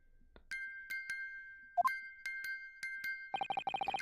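Chiming in The Great Ace Attorney Chronicles: a series of bright, ringing bell-like tones struck at spaced intervals, then a quick rapid run of chimes at the end, crisp and alone.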